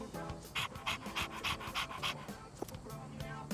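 Dog panting in Persona 3 Reload, rapid rhythmic breathy pants repeating about every third of a second, close and clear over soft game music.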